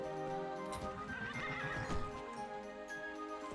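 A horse whinnies loudly in the video game Daggerfall Unity, a drawn-out wavering neigh with faint hoof clops, heard up close with no talking.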